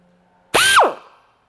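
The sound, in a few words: drilling with a carbide bit while installing a supercharger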